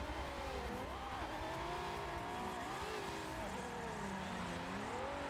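Drift cars racing at the Nurburgring, engines wailing and rising and falling in pitch amid tire noise, heard faint and continuous as the cars throw huge angles through a corner.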